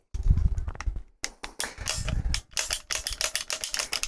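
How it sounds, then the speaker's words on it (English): Heavy battery cables being cut to length while rewiring an old North Steel 34 boat, a series of sharp snapping crunches and clicks in irregular bursts, close and fairly loud. "just need to cut first some wires to length to connect the batteries together"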